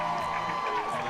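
A home crowd at a DC Shadow versus Raleigh Radiance ultimate frisbee game cheers and whoops, distant and moderately loud, with a steady tone droning beneath.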